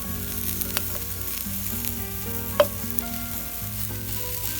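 Food sizzles and crackles as it chars in a hot pan for huevos rancheros, a dense continuous frying hiss with a sharp pop partway through and no voices.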